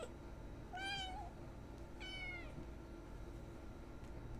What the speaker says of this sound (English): I'm just trying to get this stupid kitten to stop meowing